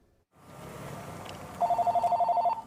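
A telephone in a small bookstore rings with a rapid electronic trill that starts partway through, fairly clear over faint room ambience.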